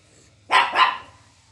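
A pet dog gives two quick barks in a row, close and fairly loud, against a quiet room.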